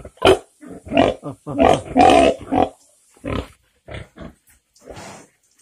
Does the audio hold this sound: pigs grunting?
yes